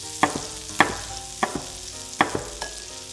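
Apple slices cook slowly over a lowered flame in melting butter in a pan, giving a soft steady sizzle broken by several sharp clinks of a utensil stirring against the pan.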